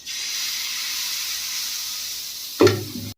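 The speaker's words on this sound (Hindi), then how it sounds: "ये देखो, एक साइड ये भाप से पक रहे हैं और एक साइड हल्की आंच में" A chila-like batter dish cooks in steam on one side and over a low flame on the other, giving a steady, even sizzling hiss that ends in a sudden clunk near the end.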